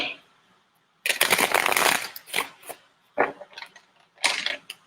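A bulky deck of tarot cards being shuffled: a quiet lead-in, then close, dense riffling bursts with short pauses between repeated shuffles.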